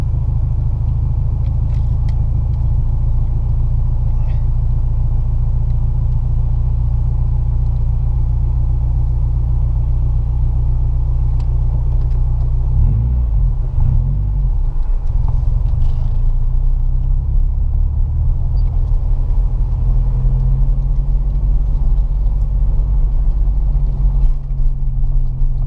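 A car drives through Tallinn, Estonia, with a loud, steady engine and road rumble heard from inside the cabin, unbroken throughout and with no talking.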